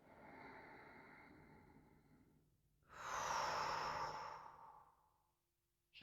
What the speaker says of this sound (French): On inspire.